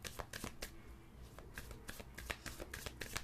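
Tarot cards being shuffled and drawn up close, a run of quick crisp riffling flicks and slaps at an irregular rhythm, fairly quiet, with no talking.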